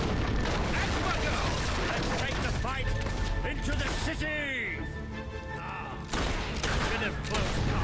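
Dense, rapid bursts of gunfire from a fully upgraded gun in Fable 3 keep crashing over a voice talking, with booming impacts and a short lull before the shooting picks up again.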